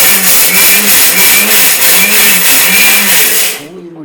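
Mixer grinder coarsely breaking soaked pearl millet for koozh, a loud steady motor whir with rhythmic pulsing from the jar contents, running for several seconds before switching off abruptly near the end.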